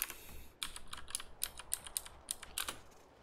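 Blind typing on a computer keyboard with no letters printed on its keys: a run of crisp, close key clicks, irregular in rhythm, about a dozen strikes over a few seconds with brief pauses, no talking.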